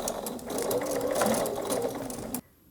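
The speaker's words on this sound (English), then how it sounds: "So that little bit of machine basting is just going to hold those layers together" Sewing machine running a short basting stitch along the edge of a quilt binding, a steady close whir holding level for over two seconds before cutting off abruptly into near silence.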